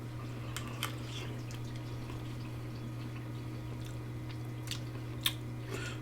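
Close, quiet chewing of Cajun cornbread dressing, with soft moist squishing bites and a few faint clicks over a low steady hum, no talking.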